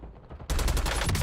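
Rapid automatic gunfire bursts out in Call of Duty Warzone after a short lull, a loud, close, fast stream of shots that continues to the end.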